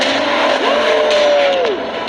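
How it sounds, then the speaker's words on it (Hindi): A Lamborghini engine revs in a loud, sustained rising and falling whine, close by, lasting about two seconds. "जरा इंजन की आवाज तो सुनो।"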